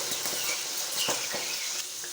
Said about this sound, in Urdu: اب اس میں ہم ڈالیں گے مٹر۔ اس کو فرائی کریں گے۔